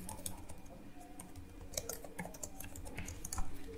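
Rapid, steady keystrokes on a computer keyboard while HTML code is entered, close and clear with no talking.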